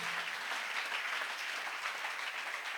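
A church congregation at a reverend prophet's sermon breaks into sustained, dense applause, a steady wash of many hands clapping with no speech over it.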